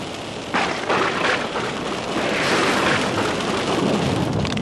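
Thunderstorm heard while driving through lightning, with steady heavy rain and wind noise throughout and low rumbling thunder swelling in the background.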